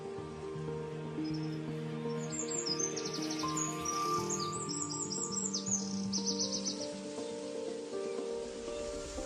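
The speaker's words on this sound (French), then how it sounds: "Le guêpier à queue d'azur appartient à la famille des Méropidés." Blue-tailed bee-eaters calling in a wetland transition zone: a flurry of bright, rapid chirps and trills, moderately close, over a steady low ambient background.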